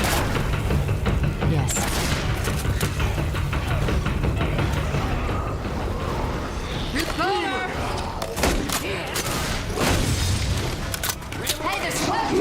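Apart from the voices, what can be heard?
gunfire in a video game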